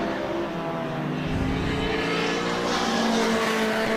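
A De Tomaso Pantera race car drives past on the Winton circuit during a Group S sports car race, its engine a steady loud roar with a touch of tire noise, holding constant through the pass.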